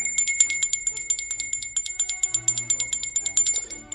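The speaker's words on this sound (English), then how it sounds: "That bell means we're halfway through the show, everybody" Rapid high bell chimes ring out steadily as a podcast's halfway marker, a bright repeating pattern of strikes lasting several seconds with a faint low hum beneath and no talking.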